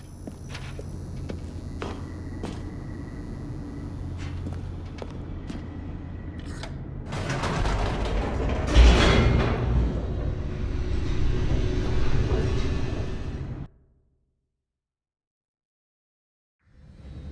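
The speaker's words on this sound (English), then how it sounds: "The elevator raced downward, plummeting towards an unknown fate." An elevator in The Stanley Parable descends with a rumbling mechanical drone that swells and roars for several seconds, then cuts off abruptly into silence.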